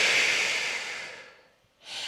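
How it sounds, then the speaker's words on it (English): A person exhales out through the mouth during a standing posture and centering exercise: one long, breathy, airy outflow that fades over more than a second, then a fresh breath starts. "take an inhale through the nose, exhale through the mouth"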